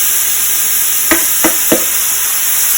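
Tomatoes and a leftover wine marinade go into a hot pot for pot roast, giving a steady loud sizzle with three sharp clatters of stirring or scraping close by.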